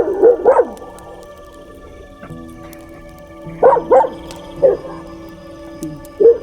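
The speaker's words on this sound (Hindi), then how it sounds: "डॉगी चुप ही नहीं हो रहे हैं" Dogs bark at night at a jungle camp, two quick close barks, then after a pause a cluster of four or five more barks, with a final single bark over a quiet, steady background hum.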